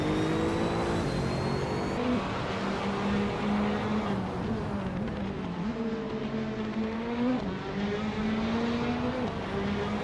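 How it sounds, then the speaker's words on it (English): A 2021 Chevrolet Camaro race car in the Trans Am class drives at speed, its loud, steady engine note rising and falling with shifts, close and alone with no talk. "Eunice Gottlieds is driving a 2021 Chevrolet Camaro in the Trans Am class."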